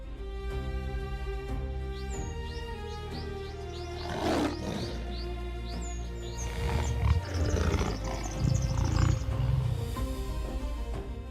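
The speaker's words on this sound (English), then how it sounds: "The lion's roar is a clear declaration of power." A lion roars on the savanna, a deep low rumble that swells in bursts, with scattered bird chirps heard over a steady wild background.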